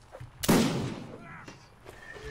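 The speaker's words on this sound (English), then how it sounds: "Make way for the cannon." A cannon fires in a battle video game with one loud, sharp boom that rolls off slowly, followed by fainter distant shots.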